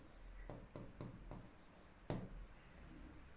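Chalk tapping and scratching on a classroom board during a lesson, a series of short, sharp strokes roughly every quarter second, then a louder stroke after a brief pause, faint and close with no talking.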